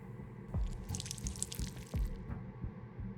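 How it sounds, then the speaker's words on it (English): Water dripping and trickling into a clay mold in the Whispers of a Machine video game, quiet game audio with a couple of louder drops standing out against soft splashy detail. "I'll go and add some water."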